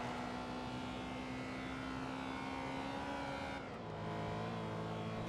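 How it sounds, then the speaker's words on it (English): A Bugatti engine in Forza Motorsport 2 holds a steady, droning high rev, then the pitch drops abruptly as the throttle shifts, continuous and fairly quiet with no voices. "Rev up the Bugatti."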